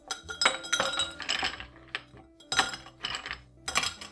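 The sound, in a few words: ice cubes clinking into a cocktail glass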